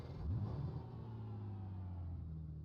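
A BMW race car in a racing video game reversing through the pits, its engine a steady mid-pitched drone with a brief rise in revs at the start, heard alone and fairly loud.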